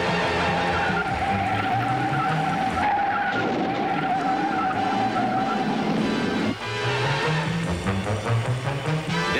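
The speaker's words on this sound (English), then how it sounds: "rookie Ronnie Duman pays another visit to the wall" A 1963 Indy 500 race car skids loudly with a long tire squeal and engine roar during practice, then hits the wall in a crash. A second screech and engine noise follow.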